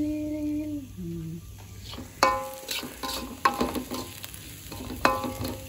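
Food is stir-fried in a pan, with irregular scraping and clanking of a utensil against metal over a low sizzle, close by; a short tonal hum sounds at the start.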